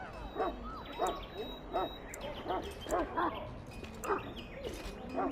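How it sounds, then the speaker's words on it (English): Mabari warhound from Dragon Age Origins giving short yips and barks in a steady series of about eight bursts, moderately near over a low background hum. "You're quite lucky to have your own Mabari warhound, you know."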